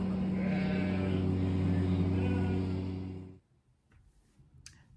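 A young lamb bleats in one long, loud, close, wavering cry that cuts off abruptly, followed by near silence with faint ticks.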